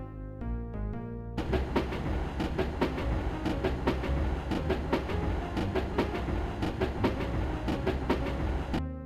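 A train runs in a retro 1990s PC game, giving a steady rumbling roll with regular clickety-clack beats, opened by a short tonal chime.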